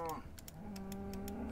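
A cow in the Minecraft video game gives one drawn-out moo, close and clear, followed by a few short clicky game noises, with no speech.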